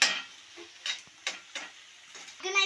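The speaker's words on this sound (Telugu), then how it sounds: "మనం ఎగ్ని ఇప్పుడు చాప్ చేసుకొని అది ఆనియన్లో మిక్స్ అయ్యేలాగా చేయాలి." Cooked egg being chopped and mixed with onions in a pan, a quiet run of scattered scraping and tapping strokes from a spatula, with light sizzling between them.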